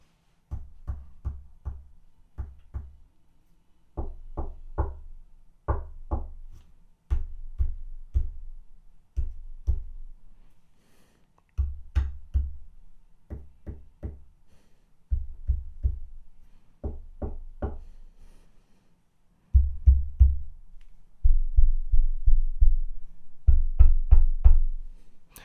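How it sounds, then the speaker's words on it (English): A long series of light taps and heavier knocks on a desk and a microphone boom stand during a shock mount test, arriving in short clusters of three to six hits with brief pauses, thudding and close, growing louder toward the end. "I'm going to tap the desk and then knock on the desk. I'll tap the stand or the boom and move my way up"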